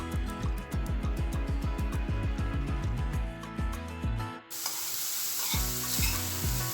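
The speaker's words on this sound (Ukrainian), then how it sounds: "на пательню відправляю смажитись цибулю з моркою" Onion and carrot sizzle steadily in a hot frying pan for borscht while a utensil scrapes and stirs rhythmically, then the frying hiss grows louder and brighter.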